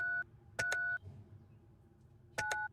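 Touch-tone telephone dialing in the video game Penelope Pendrick and the Art of Deceit: a short dual-tone beep, then a pair of quick tones, a pause, and another pair, clear and close.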